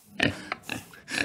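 A pig oinks several times in quick succession, short close grunts with slight pauses between them, with no talking.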